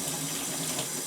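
Hot water runs steadily from a tap into a sink during the cleaning of silver rings, a continuous close splashing hiss with no pauses.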